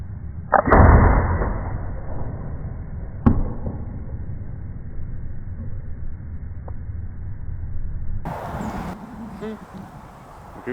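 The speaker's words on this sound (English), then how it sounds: "I'm shooting blank bale, so there's no target" An arrow from a bowhunting setup strikes a blank bale with a sharp thwack, followed by a few fainter knocks and a brief rustle later on, all over a steady background hum.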